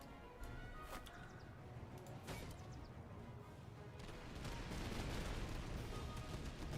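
Musket volleys crack out in the Master of Command strategy game, a few sharp scattered shots followed by a denser, sustained burst of massed fire, moderately loud against battlefield ambience.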